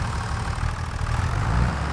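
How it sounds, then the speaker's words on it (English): A John Deere 3650 tractor in Farming Simulator 25 idles with a steady, loud, low rumbling drone, close up and unbroken, with no voices over it. "Here's the John Deere 3650."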